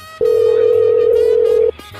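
A single steady telephone ring tone sounds loud and close for about a second and a half on a call back to a store, with silence before and after.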